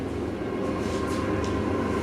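Train passing outside an old school building, a steady low rumble and rolling drone that holds evenly throughout, with no talk over it.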